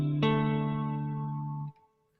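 Two notes a perfect fifth apart ring out together as a bright electronic tone, holding steady before cutting off after under two seconds.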